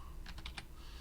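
A handful of quick keystrokes on a computer keyboard, four soft close clicks in a short burst over a low steady background hum.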